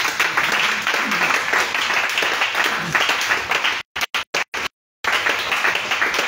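A church congregation at a worship and praise service applauds and cheers, a dense, loud wash of clapping and voices that breaks off in several sharp cuts near the end before resuming.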